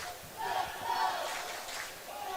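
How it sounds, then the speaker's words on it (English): Ice hockey crowd at a Billingham Stars v Whitley Warriors semi-final, a broad rising-and-falling roar of cheering across the arena reacting to hard body checks, steady and moderately loud throughout. "The crowd responding to that. They love to see the physicality of these two rinks."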